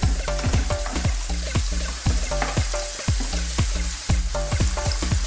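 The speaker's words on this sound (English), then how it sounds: "we're just going to stir fry this now" Mushrooms stir-fried in a pan give a loud, steady sizzle punctuated by rhythmic scraping and clacking of a utensil against the pan, close up, with no talking.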